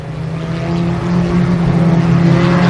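Stock cars of the NASCAR Winston Racing Series at Columbus Motor Speedway during the 1990 Fall Speedfest make a loud, continuous engine drone that builds slightly and holds steady throughout, with no talking.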